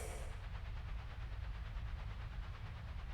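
Train standing at a station in the 2006 Windows adventure game Secret Files: Tunguska, a steady low rumble with faint rhythmic rattling and a brief hiss at the start, continuous and fairly close with no talk.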